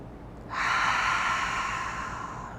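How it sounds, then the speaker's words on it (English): A single deep cleansing breath during a yoga class, drawn sharply through the nose and then released in a long, close, breathy exhale that fades gradually, with no talking over it. "cleansing breath"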